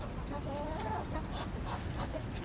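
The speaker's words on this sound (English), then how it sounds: "Here's all my chicken friends gathered close around" A flock of backyard chickens scrambling over a handful of tossed corn, with close, busy clucking and soft calls layered over constant outdoor background noise.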